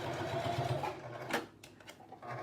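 A sewing machine runs close by, stitching hair wefts onto a dome cap, its motor whirring in a rapid steady buzz that pauses briefly and restarts.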